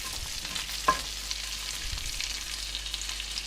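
Bacon that has rendered and started to brown sizzles in a pan with a tablespoon of butter while being stirred, a steady soft frying hiss with one brief scrape of the spoon.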